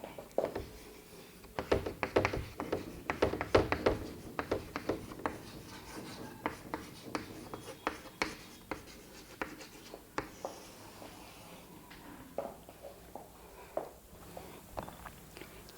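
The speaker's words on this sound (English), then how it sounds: "Now labeling and also writing the title below the diagram." A pen scratches across paper in short irregular strokes and taps while labels and a title are written beside a drawn nephron diagram, close and quiet with no talking.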